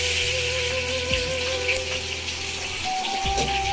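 Cassava chips frying in a wok in a West Javanese village kitchen, a steady close oil sizzle with faint watery crackle throughout, no talking.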